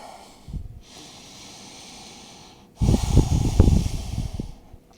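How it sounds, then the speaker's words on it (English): Deep breathing while holding a lizard stretch in a splits flexibility routine: a long, soft airy inhale followed by a louder, rougher exhale, heard up close with no talking. "deep breaths here, very important to breathe"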